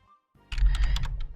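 Someone types on a computer keyboard in a quiet room, with a brief pause and then a quick, close burst of clicky keystrokes in uneven rhythm.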